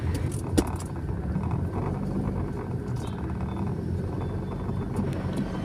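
Steady traffic rumble along a road in Lampung, southern Sumatra, with cars passing continuously at moderate loudness, a low engine drone filling the whole stretch.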